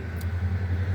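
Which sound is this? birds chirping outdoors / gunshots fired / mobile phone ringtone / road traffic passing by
road traffic passing by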